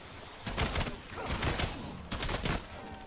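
Repeated bursts of weapon fire in the Call of Duty: Black Ops zombies mode Ashes of the Damned, several loud volleys in quick succession with brief gaps, no talking over them.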